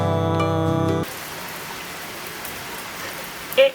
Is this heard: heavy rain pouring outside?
yes